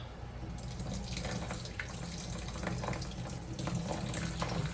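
Liquid draining off homemade dill relish: a close, steady pouring and trickling stream, wet and hissy, with faint irregular drips and clatter throughout and no talking.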